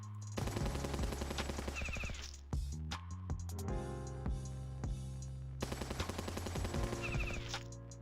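Rapid gunfire from the war strategy game Battle Nations, dense bursts of automatic shots and single cracks in repeated volleys, loud and continuous with short pauses, no voices over it.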